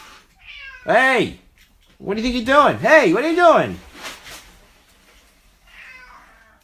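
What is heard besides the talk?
cat meowing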